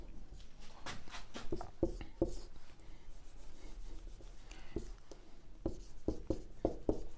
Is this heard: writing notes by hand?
yes